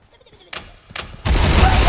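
Bombard spell blasts in the video game War for the Overworld: two sharp explosive bursts land in quick succession, then a dense, crackling barrage swells and keeps roaring loudly close up.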